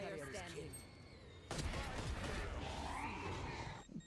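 Gunfire in a pro Valorant esports match, including a Guardian rifle, rings out in a dense burst that starts abruptly and keeps going, with shouting casters talking over it throughout.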